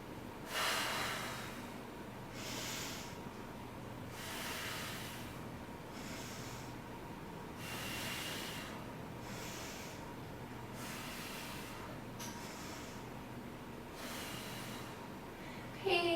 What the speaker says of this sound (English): inhale through the nose, exhale through the mouth